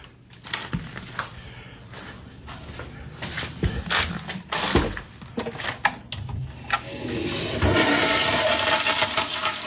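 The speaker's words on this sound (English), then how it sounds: "Okay, so I do hear it flush there." A toilet flushes in a bathroom, with clattering bumps and knocks first, followed by a rising, sustained rush of water that builds toward the end.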